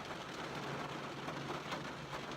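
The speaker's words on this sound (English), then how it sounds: "I know I'm not here listening to the rain as it falls right now." Steady rain falls in a dense, even hiss with scattered patters, close and continuous, with no voices.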